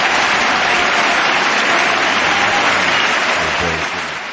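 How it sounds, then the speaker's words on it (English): A studio crowd at a radio show applauds and cheers for an arriving guest, a dense, loud, sustained clapping that fades slightly at the end. "The crowd just cheered"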